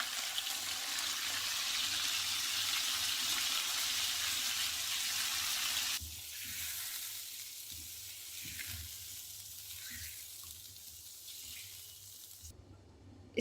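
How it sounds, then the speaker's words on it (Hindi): Hot oil sizzles loudly and steadily in a pan of golden-browned chicken as a yogurt mixture goes in, then the hiss drops to a quieter, bubbling simmer with soft stirring sounds before cutting off near the end. "अब इसमें हम योगर्ट मिक्सचर ऐड कर देंगे"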